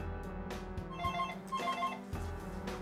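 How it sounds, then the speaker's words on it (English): A phone rings with an incoming call at a desk, a bright repeating electronic ringtone in two short bursts over steady low room hum, fairly close and clear with no talking. "Alex makes a call to her phone posing as a representative from her bank"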